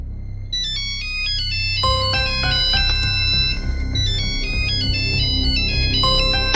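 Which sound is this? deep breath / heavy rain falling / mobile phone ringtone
mobile phone ringtone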